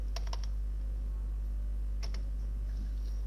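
Git command typed on a computer keyboard: two short bursts of quick keystrokes, the second after a pause of about a second and a half, quiet and close over a steady low hum.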